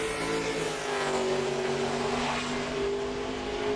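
A NASCAR Nationwide Series stock car runs a qualifying lap at Richmond, its engine a steady, loud, sustained drone with a slight pitch sweep throughout, no voices.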